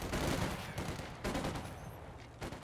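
Machine gun fire in the Company of Heroes 2 strategy game, dense rattling bursts separated by brief pauses, fairly loud and alone without talk.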